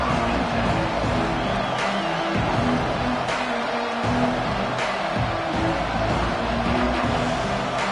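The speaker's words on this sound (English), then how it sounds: "This crowd ready to make its presence known." Stadium crowd noise at a Texas A&M vs Auburn college football video game, a steady, dense roar of many voices that holds loud and even throughout, with brief swells and no clear speech on top.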